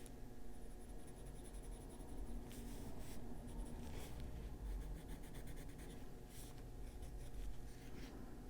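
Colored pencil shading on paper, a fine dry scratching that keeps a steady, busy rhythm of quick strokes, close and continuous with a few brief pauses and no talking.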